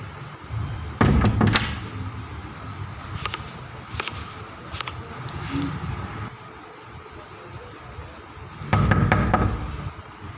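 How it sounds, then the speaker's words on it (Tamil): Sharp knocks hit a door in several quick bursts, one group early and another near the end, with quieter taps and rustling in between and no speech. "யார் கதவு தட்டுறது?"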